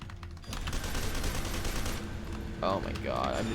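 Continuous rapid gunfire from shooting in the first-person shooter F.E.A.R. 2, a dense, sustained burst filling most of the moment with game sounds and a voice briefly underneath near the end.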